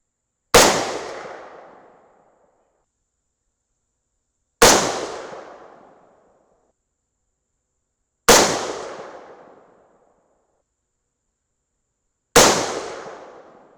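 Four rifle shots firing 140 grain Hornady match bullets during a barrel harmonics test. Each is a sharp loud crack with a long decaying echo, spaced about four seconds apart, with no voices.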